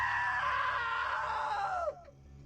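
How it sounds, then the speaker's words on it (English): A loud, sustained scream from a character in the video game What Remains of Edith Finch, holding strong for nearly two seconds before breaking off abruptly into quiet background. "Now that was a great scream."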